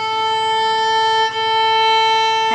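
A sustained bowed A note on a string instrument, raised slightly in pitch with a fine tuner, rings steadily with rich, even harmonics and a brief dip partway through.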